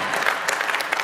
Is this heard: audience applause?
yes